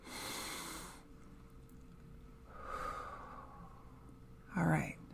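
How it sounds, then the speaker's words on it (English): A slow, deep breath: a long airy inhale, a pause, then a softer exhale, close and quiet, followed by a brief voiced sound. "let's take a deep breath together"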